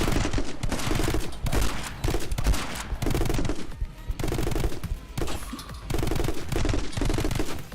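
Heavy gunfire rips through My Friend Pedro: repeated loud shotgun blasts and rapid shots in dense, almost continuous bursts with short gaps, close and harsh, with no talking.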